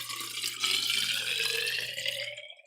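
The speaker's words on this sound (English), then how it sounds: "Pouring water." Water pours steadily for a couple of seconds with a bright, splashing, running-liquid sound, close and fairly loud, then stops abruptly near the end.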